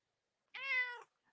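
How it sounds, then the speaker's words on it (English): A cat gives a single clear meow, about half a second long, alone in otherwise quiet surroundings. "You hear the cat talking"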